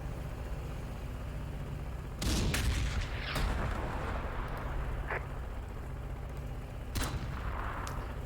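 Gunfire and artillery from the wargame Close Combat: The Bloody First, with a German Panzer engaged at Sbiba Ridge: a few sharp heavy blasts with rumbling decay over a low steady background, separated by pauses.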